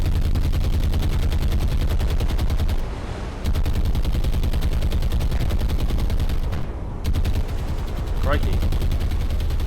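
Dense, continuous anti-aircraft fire from a warship at attacking aircraft in the War on the Sea naval battle game, rapid rattling bursts packed together with brief lulls, loud and close, and a man briefly exclaims over it.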